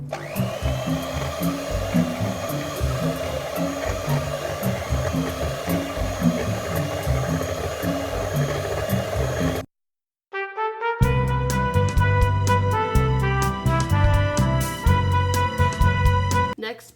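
Banana nut muffin batter is mixed in a bowl under a steady, loud motor whir that runs for several seconds. After a short pause, a different rhythmic sound follows.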